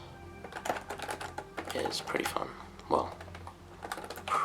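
Fingers tap on a Perixx Periboard 710 Plus wireless keyboard in quick, uneven bursts of clicky keystrokes, close up, while a person talks over the typing.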